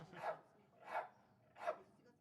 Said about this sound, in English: Look at these beautiful dogs.